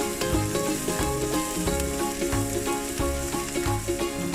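Onions fry in a pan for lamb curry, cooked until deeply browned, with a dense, steady sizzle and rhythmic stirring knocks heard up close, with no one speaking.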